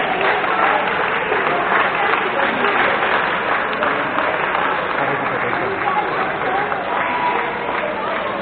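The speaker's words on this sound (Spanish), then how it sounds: "Un aplauso" A crowd at an award ceremony for a sports event in Vigo claps loudly and steadily, a dense wash of applause that lasts the whole stretch.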